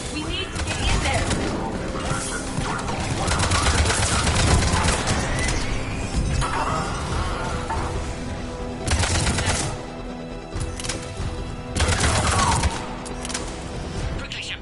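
Bursts of video game gunfire at a checkpoint battle, rattling volleys and explosive hits over game music and effects, with voices talking over the fighting.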